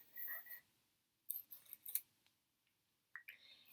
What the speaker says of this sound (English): I can rip off a piece of this tape